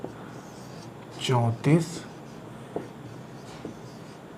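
Short bursts of a pen or marker writing out answer options on a board, a few quick scratchy strokes heard under a man's speech.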